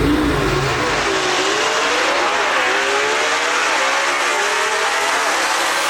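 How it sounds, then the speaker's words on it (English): Drag race cars at Knoxville rev hard at launch, a loud, unbroken engine roar with pitch climbing and wavering as the cars pull away, close and sustained. "no shortness of RPMs in either one of those two cars"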